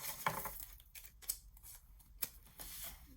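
Scissors snip through tape in a few quick, close cuts while a junk journal pocket page is made from 12x12 paper, with soft rustling between the crisp strokes.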